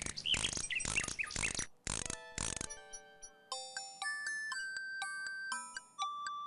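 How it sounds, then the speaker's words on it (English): A wind-up mechanical nightingale from King's Quest 6 plays a tinny tune: harsh squawky bursts at first, then a string of bright, thin chiming notes stepping up and down, with no one talking. "The mechanical nightingale sings a sweet, tinny tune."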